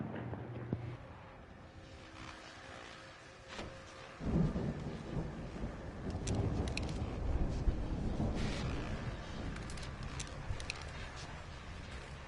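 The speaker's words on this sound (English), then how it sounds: "that storm we all felt coming is finally here" Thunderstorm in the video game Alan Wake, a low rolling rumble of thunder swelling midway over a steady hiss of rain, moderately distant and without speech.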